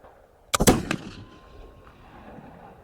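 A flintlock muzzleloader rifle fires once, with a quick priming crackle running straight into a sharp, loud blast and a fading outdoor echo tail.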